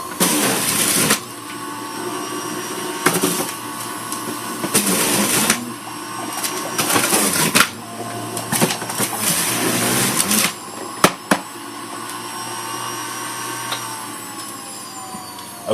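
A loud electric juicer motor roars up close, cutting in and out in repeated bursts of harsh whirring and grinding, with short pauses between runs and a few sharp clicks near the end.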